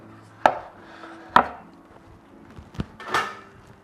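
Turmeric chapatis are chopped on a board: three sharp knife thuds land at irregular intervals, near and distinct, with a softer scrape between them and no talking.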